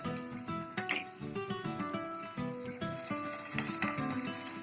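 An egg fries with salt in a pan, a steady sizzle under a broad music bed with no voice.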